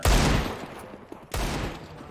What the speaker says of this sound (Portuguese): Ah, achei que tinha dado tiro aí.